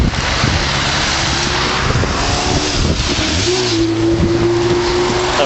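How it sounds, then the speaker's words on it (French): Light road traffic passes near Èze village, a steady wash of engine and tire noise with wind buffeting the microphone, and a vehicle's rising engine note pulling through toward the end. "Alors il y a un petit peu de circulation"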